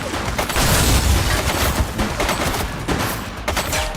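Bursts of rapid gunfire in the crime video game The Precinct, dense overlapping shots crackling loudly in quick volleys with brief lulls between them.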